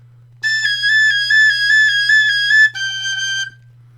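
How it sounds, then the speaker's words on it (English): A tin whistle sounds a G sharp alone, close and clear: one sustained note held for about two seconds, then a short break and a second slightly lower, softer note before it stops. "now on this whistle, when I'm coming down, I can play a G sharp like this"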